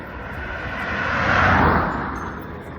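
Road traffic passing nearby along a roadside walking route on a chilly, overcast morning, a loud continuous rumble that builds as a vehicle approaches and fades as it moves away.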